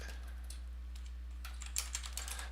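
Keyboard typing of a few quick, irregular key clicks, starting faint and becoming sharper toward the end, over a steady low electrical hum with no talking.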